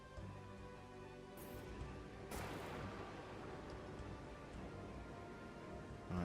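Lightning strike in the video game Aven Colony: a sudden bright crack followed by a long, low rolling thunder rumble that fades gradually, fairly quiet overall and with no one speaking.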